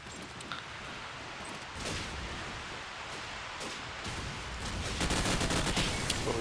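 AK rifle fire in a competitive shooter game match, sounding as rapid bursts of gunshots over a steady noisy background, growing denser and louder toward the end, with no voices.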